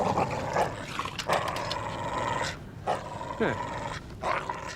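A frightened dog being coaxed and calmed whimpers and lets out low growls in close, uneven bursts, with a short spoken word from a person nearby.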